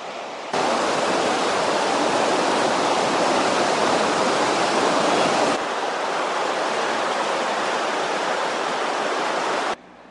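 The Swat River rushing through Kalam valley in Pakistan, a loud, steady broadband roar of fast-flowing water that fills the whole stretch without pause, with one abrupt level shift partway through.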